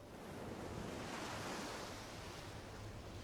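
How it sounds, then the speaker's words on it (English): Soft ocean surf and breeze ambience from the MTG Arena game, a steady, even wash of broadband noise with no distinct wave breaks, quiet and continuous for a few seconds. "Ah, the nice ocean breeze."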